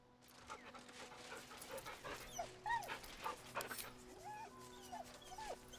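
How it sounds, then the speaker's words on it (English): A dog whimpers and whines nervously in a series of short, rising high-pitched cries mixed with soft panting, close and fairly quiet over a low steady hum. "The dog whimpers nervously,"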